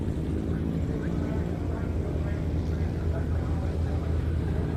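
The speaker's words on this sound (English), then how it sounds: "Got the Fury landing there." A Hawker Fury aircraft landing at the Duxford air show, a steady broadband engine drone with a low rumble, held at moderate distance and fairly loud throughout, with no one talking.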